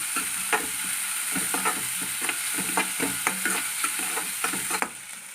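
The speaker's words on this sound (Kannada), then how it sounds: "ನಾನು ಹೆಚ್ಚಿಟ್ಕೊಂಡು ಈರುಳ್ಳಿ ಹಾಕ್ತಾಯಿದ್ದೀನಿ." Chopped onions frying in a pan over red chillies, stirred with repeated scraping strokes against a steady hiss of sizzling oil, close and alone without speech.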